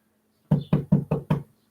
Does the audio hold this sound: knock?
yes